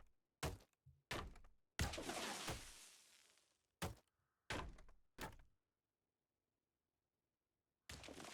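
A structure collapses in the game Deconstruction Simulator as a string of sharp, heavy crashes and thuds, one longer rumbling break-up among them, then a stretch of silence before another loud impact near the end.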